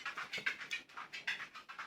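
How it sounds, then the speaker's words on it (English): A dog pants close by, quick rhythmic breaths of about a dozen huffs in under two seconds, soft and alone in a quiet room. "Sorry if you can hear my dog."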